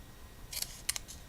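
Scissors cutting a strip of olive-green paper at an angle, a few quiet, crisp snips in short clusters, close and alone.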